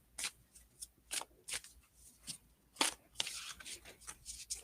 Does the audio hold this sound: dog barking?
no